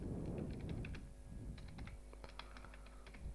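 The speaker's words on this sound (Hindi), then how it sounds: "यहाँ टाइपिंग कर रहा हूँ मैं पे स्लिप फॉर" Quick bursts of keystrokes on a computer keyboard while text is entered into an Excel pay slip, clicking in irregular clusters at low volume in a quiet room.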